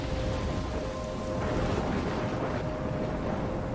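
A thunderstorm in the video game Life is Strange, with heavy rain and wind forming a steady, loud, broadband wash and low rumbling, continuous throughout and without voices.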